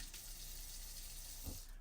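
Water runs steadily from the sink tap inside a 2015 Mercedes-Benz Sprinter 3500 camper van, a constant, fairly quiet hiss and splash that continues unbroken throughout.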